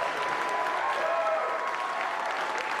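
Legislative Democrats and union leaders applaud and cheer a governor's victory at a celebration in the state capitol, a steady dense clapping from a crowd filling the room.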